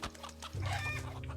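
A chicken clucks in the survival video game CryoFall, a short run of close clucking calls over a steady low game hum.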